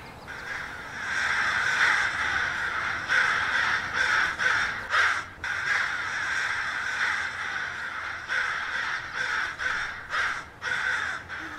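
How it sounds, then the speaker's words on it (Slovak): Rooks caw steadily in a dense, overlapping flock chorus, harsh calls running continuously with slight dips, fairly close and loud, with no talking. "Havrany, hľadajú niečo do zobáka."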